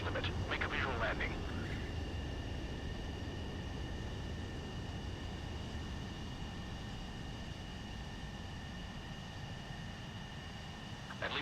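A jet aircraft lands in Ace Combat 7 under a steady, loud roaring rush that slowly fades, with a brief burst of noise near the start and faint steady tones above it.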